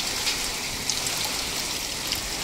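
A typhoon downpour roars without pause, thick rain hissing on nearby surfaces with scattered sharper drips and a trickling edge, loud and close, with no one talking.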